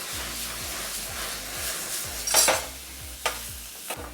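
Oil sizzles and crackles in a screaming hot wok over a strong flame, with a steady hiss and a low rhythmic burner pulse beneath, plus a couple of sharp scraping spikes, close and alone with no talking.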